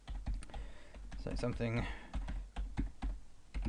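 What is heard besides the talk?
typing on a computer keyboard in Lightroom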